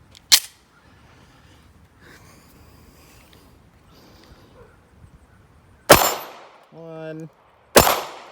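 A Taurus G3 pistol fires loud, sharp shots at a steel target outdoors, three cracks spaced seconds apart with a metallic ring, while a man briefly counts aloud between them.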